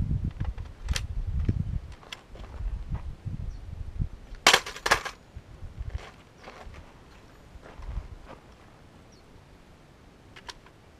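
AK rifle fitted with a Magpul MOE magazine dropped in a drop test, a sharp metallic clatter of impact midway with a few bounces, surrounded by quieter handling rustles and low rumbles.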